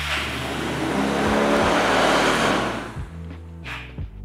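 A Yamaha Mio scooter engine runs loud and close with steady revving, its throttle apparently sticking on its own, before the idle drops and settles near the end.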